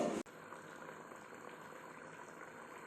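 Reticulate whipray fish curry simmering in a covered pot, a soft, steady bubbling hiss that carries on evenly after a brief knock at the start, fairly faint and close.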